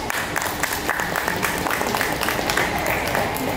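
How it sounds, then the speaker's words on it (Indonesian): Audience at an expo ceremony breaking into steady applause, a dense patter of many hands clapping close by for a few seconds, with faint voices mixed in. "Wajar kalau kita berikan aplaus."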